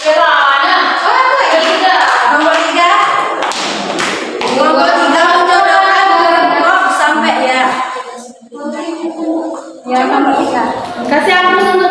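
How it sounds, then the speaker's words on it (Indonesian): Schoolchildren in a classroom clap along during a microteaching lesson, brisk bursts of close applause mixed with a teacher's voice and children's chatter, with a brief lull before the clapping picks up again. "Kasih aplaus untuk kita semua."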